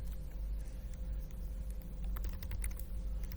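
Keystrokes on a computer keyboard typing text into a bash shell terminal, quick irregular clicks over a steady low hum, fairly quiet and close, no talk.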